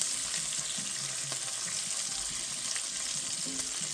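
Steady, even sizzle of food frying in a little bacon grease in a pan on a low stovetop burner, with faint stirring clinks, constant and close with no voices.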